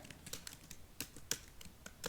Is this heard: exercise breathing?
no